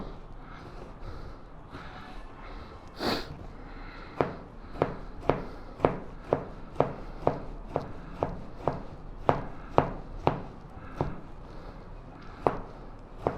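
A sharp knife chops tomatoes on a board in a steady run of crisp, close knocks, sparse at first and then falling into a quick, even rhythm with no talking.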